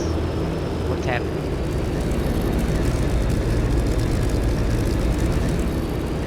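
Aircraft engines in a World War II air-combat flight game over RAF Hawkinge, a steady loud drone that holds the whole time, with a brief faint whine rising near the start.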